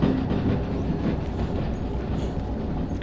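A train rolls forward in the Derail Valley video game during snowy shunting at a harbor, a loud, steady low rumble with faint clicking of wheels over track.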